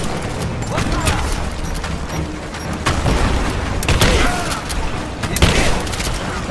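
Rapid bursts of gunfire and heavy booms from a firefight in Rise of the Tomb Raider, loud and continuous, with soldiers shouting over the shooting.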